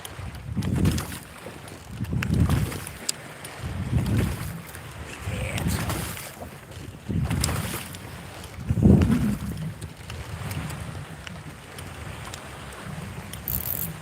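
Waves slap and wash around a small fishing boat on open water in a steady rolling rhythm of swells roughly every two seconds, close and loud, with wind buffeting the microphone and no talk.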